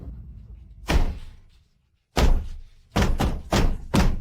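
Heavy storeroom door pushed and banged from inside by someone locked in: one thud, a pause, then four loud, close slams in quick succession, with no talking.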